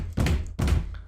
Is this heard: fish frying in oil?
no